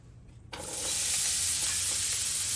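Food sizzles in about two tablespoons of olive oil in a pot, a steady loud frying hiss that starts abruptly after a quiet moment and continues evenly.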